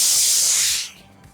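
A steam iron releases a loud, close burst of hissing steam onto a folded fabric hem on a pair of pants, which cuts off after under a second and leaves quiet background.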